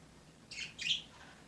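Two short bursts of bird chirping, faint and somewhat distant, with no other sound apart from a quiet background hiss.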